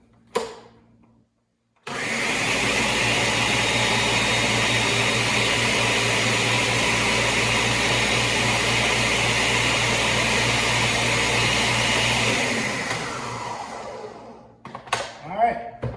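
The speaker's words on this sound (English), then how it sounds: "gotta blend that a little longer. That is chunky" A blender whirs a chunky burger shake in one loud, steady burst lasting about ten seconds, then winds down to a stop, followed by a few scattered bumps and handling sounds.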